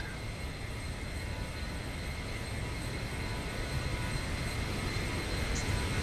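Zibo mod airliner in a flight simulator game, airborne, with a steady broadband engine and airflow roar holding constant and loud throughout, plus faint high tonal whines above.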